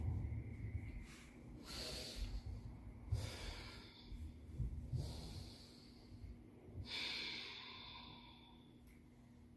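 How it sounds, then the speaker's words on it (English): Deep breathing held in a final yoga inversion, several slow, close, airy inhales and exhales with snorting, nasal edges, repeated at a calm, uneven pace in a quiet room. "Take a few breaths in your final inversion."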